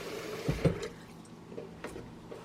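Cold water poured into a dissolved salt solution for tanning muskrat and fisher furs: a short liquid splash and gurgle near the start, then softer trickles and drips, close and alone with no talking.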